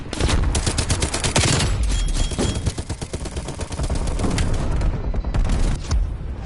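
Dense video game gunfire, rapid bursts of automatic shots layered with heavier booms, loud and continuous throughout with no pauses.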